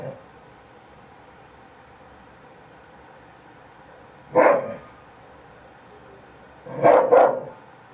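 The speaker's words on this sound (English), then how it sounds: "You got that dog growling and upset" A dog gives a single short bark, then a quick double bark a couple of seconds later, each loud and close against a quiet background hum.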